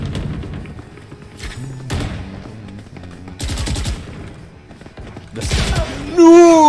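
Valorant gunfire comes in several sharp rapid-fire bursts separated by quieter gaps, loud and punchy, with a brief voice-like sound at the very end.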